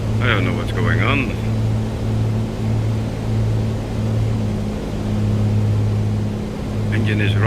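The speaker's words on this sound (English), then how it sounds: "Engine is running away." A simulated Piper Comanche engine drones loudly and continuously in a flight simulator, a steady low throbbing hum with slight surging, while a person talks over it at the start and end.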